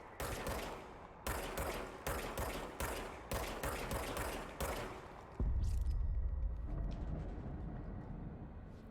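A gun fires in the video game Control, a rapid series of sharp, loud shots repeating roughly every half second, followed by a heavier sustained rumbling blast that fades.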